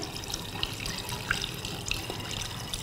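Green herbal tincture liquid pours in a steady, close trickle into a container, a continuous splashing wash of water-like sound with small droplet accents.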